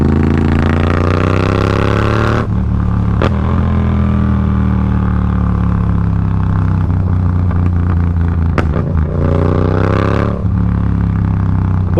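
Loud, close engine drone of a Yamaha MT-07 motorcycle fitted with an aftermarket exhaust pipe, holding a steady throaty note with pitch rising and dropping between shifts, and a few sharp pops along the way.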